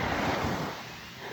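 Ocean surf at a beach washes in as a steady, broad rush, loud and close, with a slight easing partway through and no voices.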